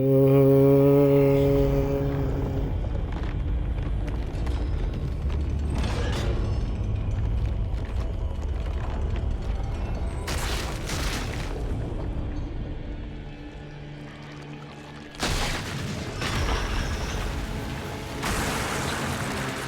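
A creature hatches from an egg in the game Lies of P with deep rumbling, creaking shell mechanisms and several sharp cracking bursts, building to loud booming impacts near the end, with a tonal drone at the start.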